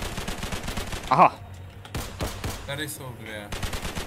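Gunfire in an SCP roleplay video game at Site-22: a short, loud burst of shots about a second in, with voices talking before and after it.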